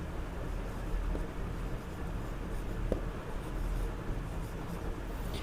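Steady scratchy writing on a board with chalk or pen during a blood group lesson, a continuous close rasp over a noisy room with no speech.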